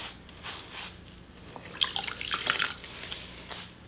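Soft wet squelches and drips of soapy water pressed from a sponge into wool felt, a quiet cluster of small splashy sounds close by.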